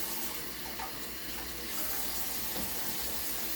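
Water runs steadily from a kitchen faucet as spring mix salad greens are rinsed in the sink, a continuous close hiss with no talking.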